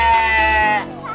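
A single sustained, loud bleat from a goat, steady and nasal for most of a second before trailing off abruptly into quieter background.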